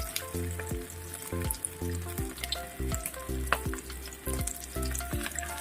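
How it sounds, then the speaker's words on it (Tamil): Rava-coated fish fries on a hot tava, giving a continuous close sizzle with crackling pops and a steady low hum underneath. "எல்லாத்தையும் உதறி விட்டுட்டு பொரிக்க ஆரம்பிக்கிறேன்."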